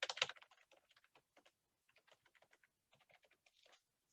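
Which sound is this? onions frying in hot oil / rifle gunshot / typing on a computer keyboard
typing on a computer keyboard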